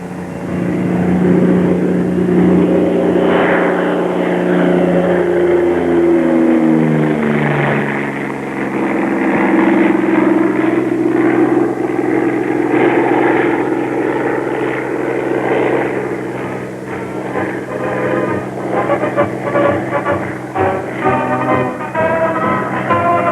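Bell P-39 fighter plane engine, a loud, steady droning roar with shifting harmonic tones that sweep downward and then waver, sustained for over twenty seconds without any voices.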